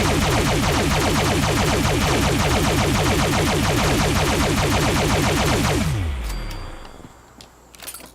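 The Quad Automatic Alien Disintegrator energy weapon fires in Fallout 76, a rapid, sustained automatic stream of zapping shots that winds down and stops near the end, followed by a few faint clicks.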